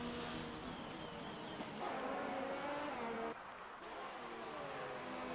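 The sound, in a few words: race cars driving in the video game F1 2019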